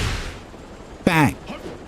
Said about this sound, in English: Bang. Counter hit.